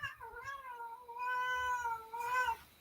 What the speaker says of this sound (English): We've got the cat going mad in here as well